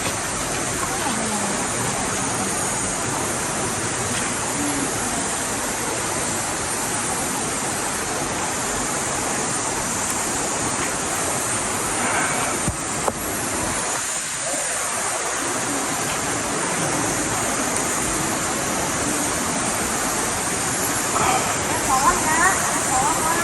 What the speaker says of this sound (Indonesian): di sini itu ada sebuah aliran sungai di dalam gua nih